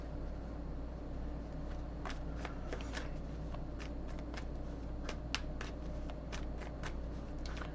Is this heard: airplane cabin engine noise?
no